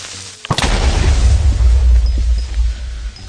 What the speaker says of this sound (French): finalement, l'explosion n'aura pas fait tellement de dégâts que ça